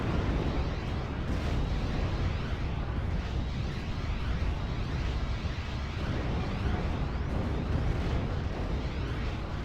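Artillery fire and explosions rumble continuously in a WWII strategy game battle with Panther and Sherman tanks, a loud dense wash of booms and blasts without pauses.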